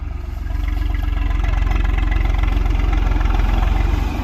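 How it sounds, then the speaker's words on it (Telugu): A threshing machine starts up in a field to thresh black gram, its engine quickly settling into a loud, steady, low pulsing chug that runs on without pause and without talk. "ఇదిగోండి స్టార్ట్ చేస్తున్నారు మిషన్."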